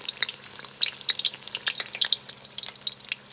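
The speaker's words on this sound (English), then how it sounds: "And now you can see they're cooking" Egg rolls deep fry in hot grease, a dense crackling sizzle of popping bubbles, close and continuous.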